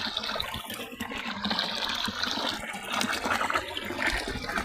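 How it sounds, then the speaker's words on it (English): A clean river in Nyabohase Village flows steadily, a continuous broadband rush of moving water that stays fairly loud and even, with no voices. "this is the river. And this river always flows."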